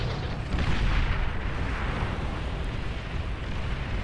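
Bombing explosions in the strategy game Beyond All Reason, a rumbling wash of distant blasts and booms rolling together into a steady, muffled roar with no talk over it.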